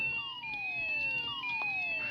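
Several emergency vehicle sirens wail at once at a fire in the Emergency Hamburg game, overlapping sweeping tones that rise and fall steadily, moderately loud, with no talking.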